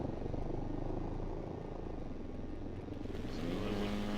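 Steady droning buzz of a large model airplane engine in the RealFlight simulator, a continuous near, moderately loud hum that shifts pitch slightly near the end.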